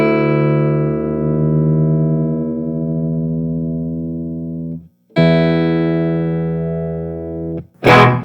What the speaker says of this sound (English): We then tune the top thick E string back up so it sounds the same as the thin E string.